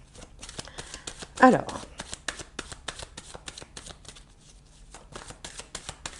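A deck of tarot cards is shuffled up close in a steady run of quick riffling flicks, with a brief louder rustle near the start and a short spoken word in French.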